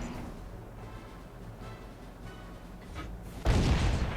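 A single heavy tank cannon shot from a Soviet T-150 Tier 6 heavy tank in World of Tanks, booming loud and close near the end after a low, steady engine rumble.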